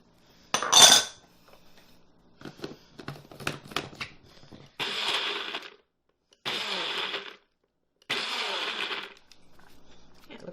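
Food processor pulsing gingerbread crust crumbs with brown sugar and salt: a rattling clatter, then three separate whirring pulses of about a second each with short silences between, close and loud.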